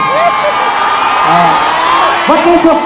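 A large crowd of fans at a 4,000-person meet-and-greet event whoops, cheers and shouts continuously, loud and close, with high excited voices rising and falling throughout.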